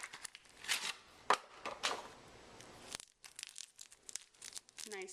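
Boxes of Jamila henna powder, Summer Crop 2010, in foil packaging being opened: close cardboard and foil crinkling and tearing in short bursts, with a brief pause midway.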